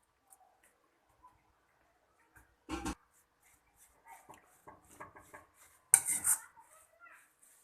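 Potato palya with chopped coriander being stirred in a pan, with sparse scrapes and clinks of a utensil against metal, including a louder clatter midway and a sharp burst near the end, and quiet gaps in between.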